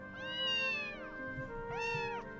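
A stray cat in a game meows twice, clear and fairly close, each call rising then falling, with a short gap between.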